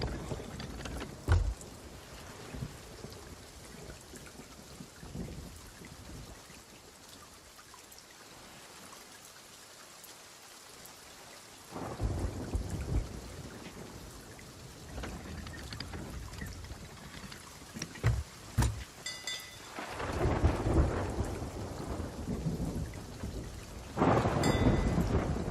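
Thunderstorm with rain at sea in the video game Sea of Thieves: steady hiss of rain and water under rumbling thunder claps, a deep sustained roll near the middle and louder crashes toward the end.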